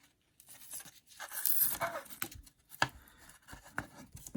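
Masking being peeled off a freshly painted Tamiya Buggyra Fat Fox RC car body, quiet intermittent tearing and crinkling strips with short pauses between pulls, close and faint.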